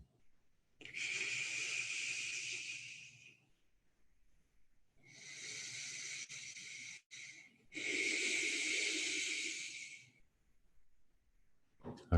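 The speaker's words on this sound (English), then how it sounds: "as we breathe in, we're breathing in through the whole body" Slow, deep meditation breaths drawn in and out, three long airy passes of several seconds each, close and soft with quiet gaps between them and no talking.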